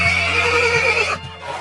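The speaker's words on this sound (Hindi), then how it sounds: "Yes, it's a horse" A horse gives one loud, close whinny that wavers and trails off over a low hum, then the sound falls away.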